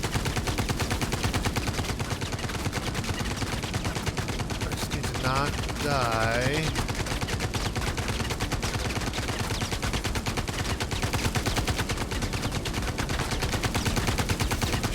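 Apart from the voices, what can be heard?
gunfire in the VR video game VR Citizen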